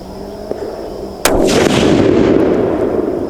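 A single loud rifle shot from a Savage 12FV firing a Hornady 178g ELD-X load, a sharp close crack followed by a long rolling echo and roar that decays slowly, over a quiet background hum.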